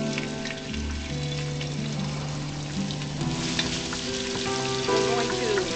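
Ginger sizzles steadily in hot oil in a pan, a continuous crackling hiss with soft tonal hum in the background, moderately close.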